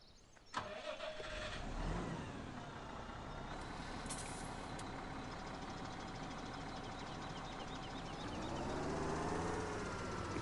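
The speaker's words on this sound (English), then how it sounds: "Vroom Tractor Go." A tractor engine in Farming Simulator 2017 on the Hagenstedt farm cranks with a sharp click and a hiss, then settles into a steady, loud idle rumble that swells slightly near the end; no voices.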